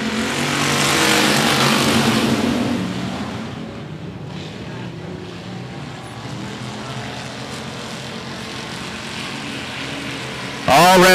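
Stock cars roar off the green flag at a short-track speedway oval, a loud dense engine surge that swells over the first few seconds, then settles into a sustained pack drone.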